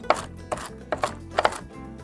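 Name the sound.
coarsely chopping pecans with a knife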